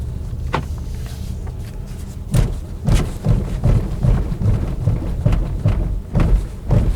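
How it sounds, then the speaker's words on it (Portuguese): An Audi Q5 Sportback rolls over road studs, heard as a series of dull thumps and bumps over a steady cabin road rumble, with the hits coming in irregular clusters. "Então primeiro aqui o teste de tachão"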